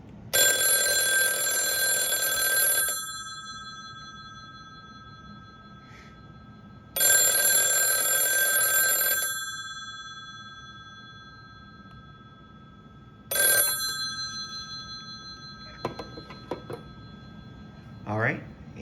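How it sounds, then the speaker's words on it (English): An ivory LM Ericsson Dialog desk telephone from Mexico rings with loud, bright electric bell bursts, two long rings of about two and a half seconds separated by a pause, then a shorter burst and brief clicks. "And then we will ring the phones."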